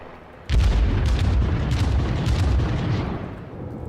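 Naval gunfire in the World of Warships video game, aboard the cruiser USS Pensacola: a heavy boom of shots lands suddenly and loudly, followed by sustained rumbling and rolling explosive noise that slowly fades.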